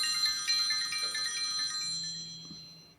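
A phone ringtone plays, a bright electronic melody that rings steadily and then fades out at moderate level, with no talk over it.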